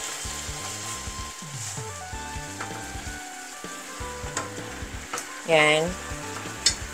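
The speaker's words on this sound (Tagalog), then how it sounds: "haluin lang po natin to para matunaw yung ating sugar" Sugar melting for chicken teriyaki sizzles steadily in a pan on medium heat while being stirred, with scraping clicks and a brief louder hiss near the end; someone speaks a single word.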